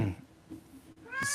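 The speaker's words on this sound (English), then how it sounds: "My cat Stinker says hi. He's been a chatty catty of late." Stinker, an elderly pet cat, lets out a couple of close meows, a short one at the start and a rising, chatty one near the end, with quiet room sound between.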